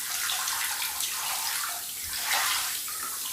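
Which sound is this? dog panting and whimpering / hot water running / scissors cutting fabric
hot water running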